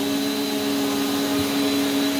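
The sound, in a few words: Prolux CTX water vacuum cleaner running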